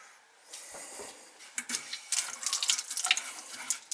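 An old outdoor sink faucet on the cold water line is opened, and water hisses and splashes out, starting faint and building into a steady, close gushing stream with small spattering bursts, no one talking.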